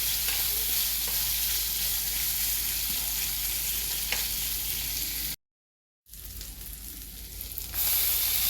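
Green chilies sizzle and crackle steadily in hot pickle oil for a greens dish, a dense, close frying hiss that cuts out briefly, then returns and swells louder near the end.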